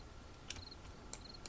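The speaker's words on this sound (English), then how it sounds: "Crickets." Crickets chirping in a zombie video game, soft repeated chirps at regular intervals over a low ambient hum, faint and distant with no voices.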